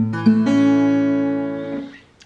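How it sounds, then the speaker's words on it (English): A guitar note plucked on the E string at the third fret rings out close and clear, then sustains and slowly fades over about two seconds. "E string on the 3rd fret. I'm just gonna pluck like this."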